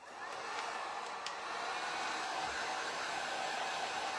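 A hair dryer blows steadily on a burlap cross craft, a loud, even whoosh of air that runs unbroken for several seconds, close up, with no talking.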